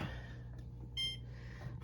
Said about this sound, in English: we're gonna set the timer